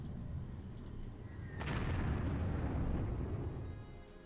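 Bombing explosions in the wartime strategy game Panzer Corps: a dense, rumbling blast swells up midway and rolls on as a sustained, loud boom before easing off near the end.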